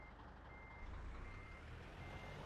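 Truck reversing beeper in the Euro Truck Simulator 2 video game, a steady high tone sounding faintly over a low engine rumble and road noise.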